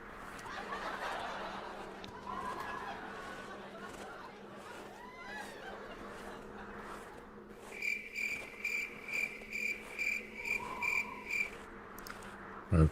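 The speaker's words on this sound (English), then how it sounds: "The old cricket sound." Steady cricket chirping fills an outdoor night ambience in the hunting game theHunter Classic, joined midway by a louder, rapid pulsing insect trill in the foreground, with other faint creature calls in the background.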